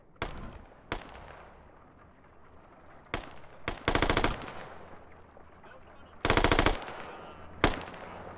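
Bursts of machine gun fire in a military video game, with short rapid volleys and single loud shots spaced apart over a low background rumble.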